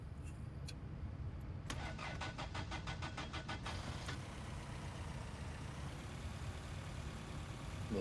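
A cold car engine cranks in the video game My Winter Car, with a rapid, rhythmic starter chugging for about two seconds before cutting off, leaving a steady low rumble.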